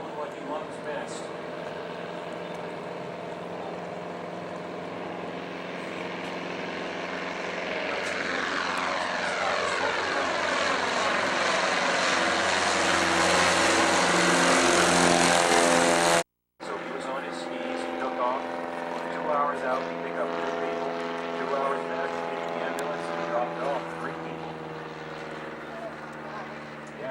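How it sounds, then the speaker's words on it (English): Super Cub bush plane flying past a boat in Alaska, the propeller engine drone swelling louder as it nears and then shifting in pitch as it passes, heard over boat engine noise with people talking. "watch the Super Cub come around our bow"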